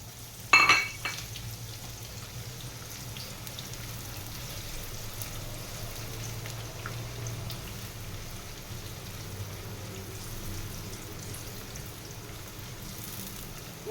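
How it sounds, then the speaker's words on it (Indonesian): Shallots drop into hot oil with a brief loud splash, then a steady, soft sizzle of frying that continues evenly throughout. "Oke, sekarang minyaknya udah mau panas, sudah panas, kita masukkan bawang merahnya."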